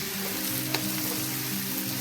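Aloo poha mixture frying and being stirred in a pan, a steady loud sizzle with a faint scrape of the spoon, close by and without talk.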